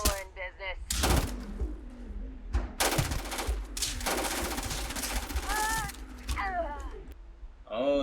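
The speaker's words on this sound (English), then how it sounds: "Oh, it's a laser gun." A laser gun fires in the Starfield video game as rapid, sharp zapping bursts that repeat in clusters over steady background game noise, loud and close, with a few chirpy electronic tones mixed in.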